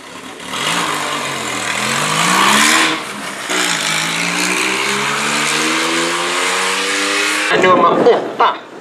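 A Porsche 911 engine revs and accelerates on a Swedish road trip, its rising harmonic drone climbing in pitch through successive pulls, loud and close, with a voice speaking over it.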